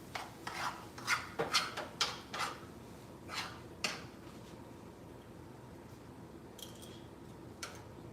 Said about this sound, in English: Y'all don't like when I scrape the pan?